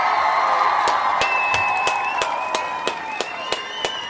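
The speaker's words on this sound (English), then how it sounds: "we want to give all of the Ujamaa babies a round of" Crowd applause with cheering, a dense wash of clapping that thins toward the end, with scattered sharp claps standing out.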